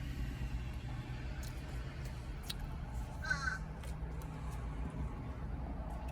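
Crows cawing in short, sharp calls around a feeding spot where other birds eat, set against a steady low traffic rumble with cars and engines passing.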